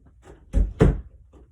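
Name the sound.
door being shut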